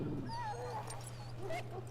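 Sick dog whimpering in the Dragon Age video game, thin high whines and soft yips over a steady low hum, with a voice briefly audible.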